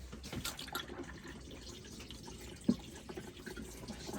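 Water pump and flush running in a motorhome cassette toilet, a low watery rush and trickle at modest level with one brief sharp knock partway through.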